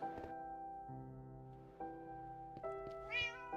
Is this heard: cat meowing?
yes